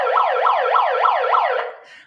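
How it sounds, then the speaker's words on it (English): A wailing siren sweeps up and down in five quick, even cycles, loud and close, then cuts off and fades within about two seconds. "Threaten y'all with the siren for 7 seconds"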